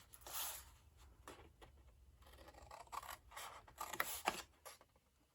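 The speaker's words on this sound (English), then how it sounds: "Just do a little cut and wedge here." Paper being snipped with scissors while crafting a Stampin' Up! Father's Day tie box: a handful of faint, brief cutting and rustling bursts, close by, with short quiet gaps between them.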